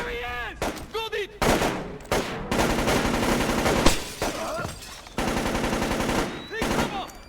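Gunfire in the stealth shooter Splinter Cell Chaos Theory: rapid machine-gun bursts and single shots crackle loudly in quick succession, with short pauses between volleys and shouted voices mixed in among the firing.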